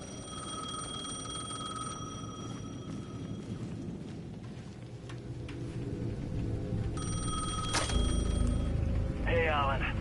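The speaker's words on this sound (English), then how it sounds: "The payphone at the edge of the plaza was ringing again." A payphone in the video game Alan Wake 2 rings in electronic bursts, pausing and then resuming, over a low rumbling background that grows louder toward the end.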